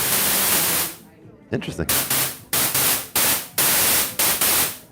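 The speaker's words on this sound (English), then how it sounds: "You can just get straight noise on here." OP-XY synthesizer putting out loud broadband static in a series of sharp-edged bursts separated by short gaps, with one brief spoken word near the start.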